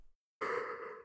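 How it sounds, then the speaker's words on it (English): A single long, breathy yawn, close to the microphone, rising suddenly after a brief silence and holding steady to the end. "Sorry, I was yawning"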